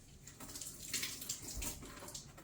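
A blended grapefruit drink is poured from a blender, giving a soft, continuous liquid splash and trickle that swells and fades, quiet and close with no talking.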